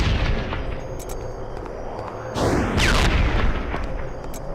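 A magical Arcane Bolt ranged attack fired in the Freedom Force superhero video game, a loud sweeping whoosh and burst cutting through continuous game background noise and music.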